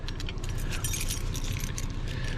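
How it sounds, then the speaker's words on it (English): A bunch of old Chevy keys jangles and clinks close up in a hand, a brief continuous metallic rattle with no talk. "And look at these keys."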